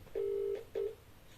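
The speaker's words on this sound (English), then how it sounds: "I'm going to phone Jane." Two DTMF telephone keypad tones, a long one then a short one, sound clearly and alone while a phone number is dialed to call a friend.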